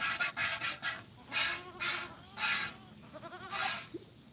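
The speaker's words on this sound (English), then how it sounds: "Oh, the goats see the sheep." Goats bleat on a farm, several wavering calls coming in repeated bursts with short pauses between them, moderately close and fairly loud, with no talking over them.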